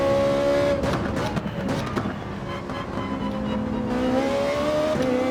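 A Toyota Supra in Gran Turismo 7, racing at Interlagos, accelerates with a loud, continuous engine drone, the pitch climbing and dipping through the gears without a break.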